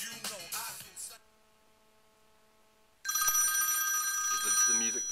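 A phone call comes in through an Altec Lansing inMotion MIX iMT800 portable boom box with an iPhone docked, and a bright, steady electronic ring tone plays loudly and close for about two seconds after music and a short silence.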